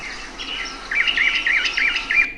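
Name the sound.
northern mockingbird song played from a dataset recording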